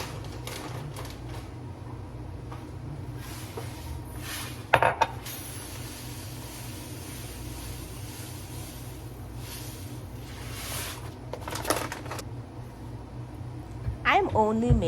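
Metal cookware clanks and scrapes on a kitchen stove, with a sharp knock midway and more rattling near the end as a pot is set out for cooking quinoa rice, heard under steady background noise and room sounds.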